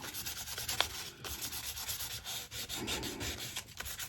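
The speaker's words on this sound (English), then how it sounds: "we're actually going to sand that back just to take that bit of gloss off it" Sandpaper scrubs across the glossy printed surface of a cereal box to dull the shine, a close, continuous scratchy rubbing with short strokes and brief dips between passes.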